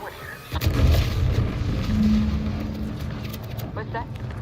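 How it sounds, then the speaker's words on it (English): A deep booming explosion rolls in from a distance during The Outer Worlds 2 gameplay, followed by a sustained low rumble. Game sounds and faint voices continue underneath. "What's that? An explosion?"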